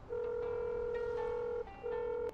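Phone dialing in the video game Dave the Diver: a steady electronic tone held for about a second and a half, a brief break, then the tone returns, clear and close with no talking.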